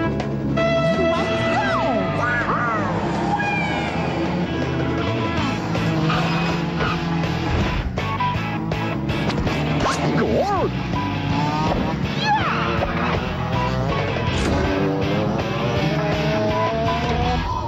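Race cars in the video game Mickey's Speedway USA on Game Boy Color, loud buzzing engine tones rising and falling with sliding pitch sweeps over constant game music, no talk.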